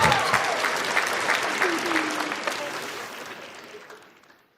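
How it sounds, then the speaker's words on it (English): Studio audience applause after an interview answer on a fighter's show, a dense burst of clapping that gradually fades out over a few seconds, with faint talk underneath. "let's give everybody a round of applause."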